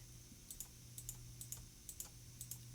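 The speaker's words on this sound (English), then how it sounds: "let's click forward" Computer mouse clicked repeatedly, a series of soft, close, evenly spaced double clicks over a steady low hum, with no talking.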